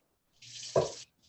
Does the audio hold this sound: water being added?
yes